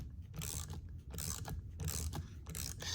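Wrench cinching down a nylon lock nut while installing a Power Pole MOVE with TechFlow prop, giving repeated ratcheting clicks in short bursts, close and fairly loud, with no voice.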